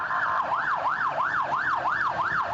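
An ambulance siren wails in central Bangkok traffic, steady and loud, its tone rising and falling in a fast, regular cycle about twice a second.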